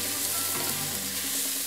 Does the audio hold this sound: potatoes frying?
yes